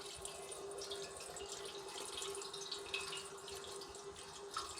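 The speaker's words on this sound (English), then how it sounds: "There comes some of the oil." Oil mixed with methanol drains out of a motor in a steady, even trickle and splash, close and continuous with no pauses.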